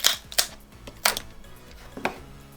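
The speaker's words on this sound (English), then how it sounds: "you'd want to use a pry tool and just pry up the ear pad along the side" A pry tool works under a Beats Studio 3 ear pad held on by double-sided tape, giving four sharp snaps and cracks spaced about half a second to a second apart, close by, with faint low knocks between them.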